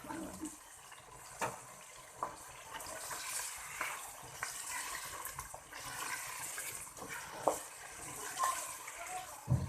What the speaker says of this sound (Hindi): अब इसमें हल्का सा मैं ये पानी का छींटा लगाऊंगी